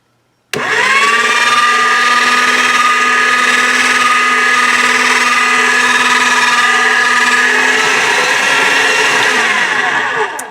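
A motorized pasta-style rolling machine flattens polymer clay sheets on its thickest setting, whirring in a loud, steady high-pitched motor whine that starts abruptly and runs about ten seconds before winding down.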